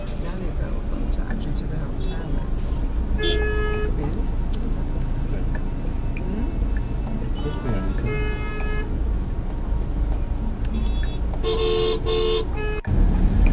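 Dense traffic jam on a bridge in India, with a steady roar of engines and several car and bus horns honking in short toots and longer blasts, while a voice talks over the din.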